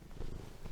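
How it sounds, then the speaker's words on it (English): A cat purring right against a microphone, a close, rumbling, continuous low purr with a slightly pulsing texture and no voices. "Cat's purring the mic."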